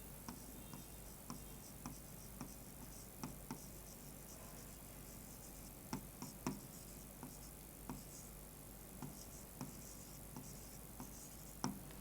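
Chalk or marker on a classroom board, a quiet run of short tapping and scratching strokes at an uneven rhythm over a steady low room hum, no voices.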